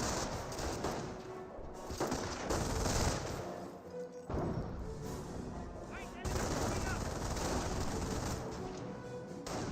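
Heavy gunfire hammers a Rifleman squad in the Company of Heroes video game amid grenade fighting, with dense overlapping rifle and machine-gun bursts and explosions in a loud continuous barrage.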